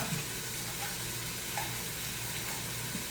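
Turkey sizzling in a pan as the base for pumpkin chili, a steady low frying crackle with faint hiss throughout, quiet and continuous with no voices.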